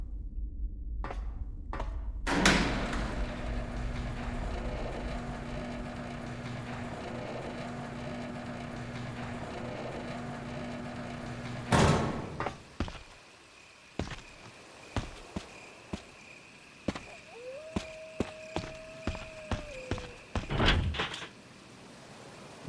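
A big iron door that won't open in Resident Evil HD Remaster: heavy metallic thuds and a clanking slam, then a long droning rumble, a second clang and scattered footsteps with a brief tone.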